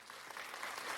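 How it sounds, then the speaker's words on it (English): A brief burst of clapping from a class, a short, moderately faint patter of several hands lasting about a second. "I want to give you this clap."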